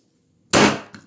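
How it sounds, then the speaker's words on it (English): A single sharp gavel bang, loud and close, cracks out of silence and trails into a short rattle. "Got to bang the gavel on this clown"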